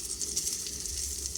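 Chicken frying in a pan inside a van, giving a quiet, steady sizzle and hiss with no talking.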